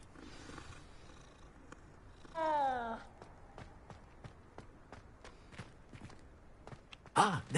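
A cat in a Hogwarts-style wizarding video game purrs softly throughout, with a rising meow partway through and another sharp meow near the end.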